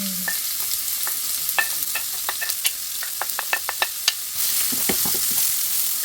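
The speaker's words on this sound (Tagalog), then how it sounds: "Okay, mag-gisa na tayo." Onion sautéing in a hot pan for beef pares: a steady close sizzle runs throughout, broken by a quick series of sharp spoon-against-pan scrapes and taps as the onion is stirred, and the frying grows slightly louder near the end.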